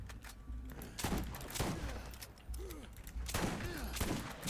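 A sniper shotgun fired in the Borderlands game, several sharp, loud blasts spaced about a second apart amid faint game effects and a quiet voice.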